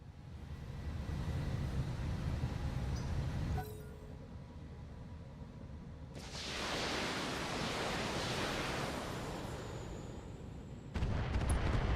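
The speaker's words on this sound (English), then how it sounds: "That might be mortar." Mortar fire in the Operation Vanguard video game during a base defense lands as heavy rushing blasts, a long roaring burst in the middle, a dull rumble before it and another loud blast at the end.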